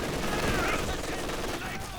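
Machine gun suppressing fire in Company of Heroes 2, a dense, steady battlefield clatter of gunfire with other combat noise, running continuously at moderate level.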